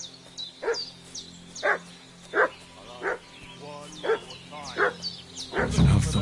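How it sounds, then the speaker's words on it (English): A dog barks repeatedly in the video game Kingdom Come Deliverance 2, sharp mid-distance barks spaced about a second apart over quiet outdoor ambience, ending in a louder burst of noise. "What's that dog making such a fuss about?"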